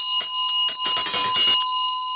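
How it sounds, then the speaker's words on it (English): Handheld ritual bell rung during Green Tara practice, a bright, sustained metallic ring with rapid jangling strokes swelling in the middle, sounding close and alone. "So we ring the bell."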